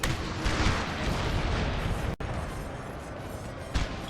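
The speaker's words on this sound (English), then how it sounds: "It must be our own artillery that's firing." Dense, continuous rumble of massed artillery fire on a Napoleon Total War battlefield, booming and crackling without letup, with one sharp dropout and a louder burst near the end.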